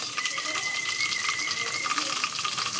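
Ginger garlic paste frying with browned onions in a pan, a steady, close hiss and sizzle that holds level throughout with faint stirring scrapes.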